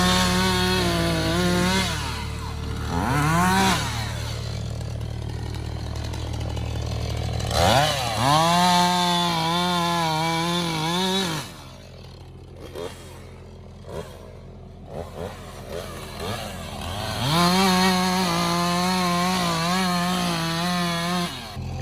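A stout $400 chainsaw felling pine trees, revving hard in repeated loud cutting bursts that rise and fall, dropping to idle between cuts, close and dominant.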